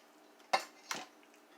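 A metal utensil scrapes and clinks against the side of a Dutch oven while sauce is spread around for baked ziti, giving two short, close metallic scrapes in otherwise quiet surroundings.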